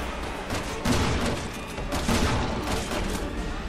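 Gunshots in the Resident Evil 6 gun shop showdown, a dense rattle of overlapping shots and impacts at moderate level with a few stronger hits, with no clear talk over it.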